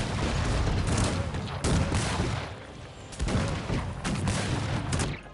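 Artillery bombardment of buildings in the strategy game Cossacks 3 produces a dense fusillade of booms and crackling shots in several waves, loud and unbroken.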